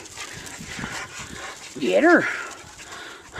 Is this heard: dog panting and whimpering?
yes